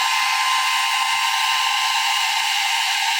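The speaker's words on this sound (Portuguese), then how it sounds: "Eu vou secar aqui com o secador para agilizar" A hair dryer blows steadily at close range to dry acrylic paint on a painting of poppies and plumerias, a constant even whir with no pauses.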